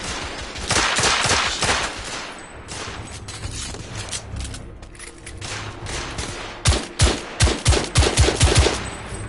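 Rifle gunfire in The Order 1886, a video game set in an alley street battle: sustained bursts of loud shots in rapid volleys, with a dense cluster of sharp cracks near the end.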